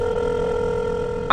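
A phone rings steadily with a sustained electronic tone, close and loud, for an incoming call in an audio drama, stopping abruptly at the end.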